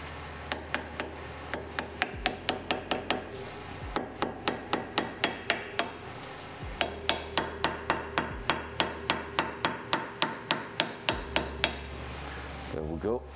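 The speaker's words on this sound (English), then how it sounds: "I'm gonna try to start it with the baby hammer." A small baby hammer taps a rear wheel bearing into place, delivering a long series of sharp metallic strikes in a steady rhythm, close and fairly loud, with a few brief pauses between bursts.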